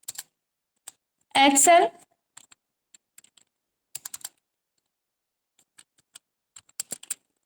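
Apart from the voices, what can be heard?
typing on a computer keyboard in MS Word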